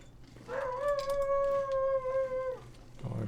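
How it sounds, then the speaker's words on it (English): A wolf in the video game The Long Dark lets out one long, clear howl, steady and mournful for about two seconds, with a low background hum underneath. "I hear ya. Where you at, little wolfie?"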